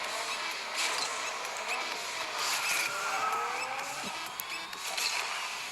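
Race cars in a racing video game howl along with engines droning and tires squealing in long skids, loud and continuous throughout the race start.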